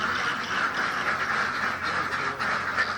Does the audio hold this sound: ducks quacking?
yes